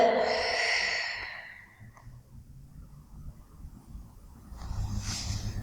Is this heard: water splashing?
no